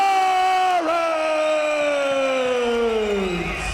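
Crowd at an MMA event roars and cheers steadily for a fighter being introduced, a loud sustained wall of voices with whoops running the whole time.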